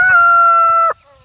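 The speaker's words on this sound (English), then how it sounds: "It's a Japanese chicken in there that has a long," A Japanese long-tailed chicken crows once, close and loud, a sustained clear call that cuts off abruptly, followed by a faint fading tail.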